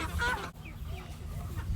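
Chickens cluck in a farmyard pen, with a few close, short calls at the start and then quieter fowl sounds over a low rumble of background noise.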